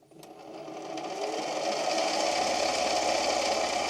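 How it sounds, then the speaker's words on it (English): A small machine with a chuck spinning up while a coin ring is polished with Flitz metal polish on a rag, a steady droning whir that rises and then holds a constant hum, close and continuous. "I'm going to power my machine back on."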